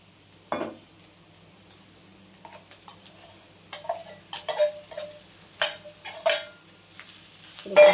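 Soaked flattened rice (poha) with salt and turmeric is stirred in a hot pan, giving scattered scraping strokes and soft sizzling bursts that come irregularly, starting quiet and growing busier and louder toward the end.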